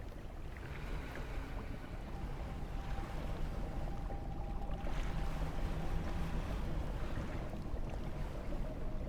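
Steady engine drone and water wash of a fishing boat moving through the water in the game Dredge, continuous and fairly loud, with no talking.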